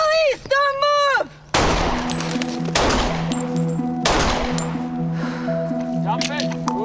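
A police officer fires three handgun rounds during training: three sharp, loud, close reports spaced more than a second apart, following a brief shouted voice and leaving a ringing tail after each shot.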